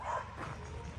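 Dogs yip and bark in short bursts while playing, fairly near and loud enough to stand out against a cluttered garage-like background during a wheel bearing job.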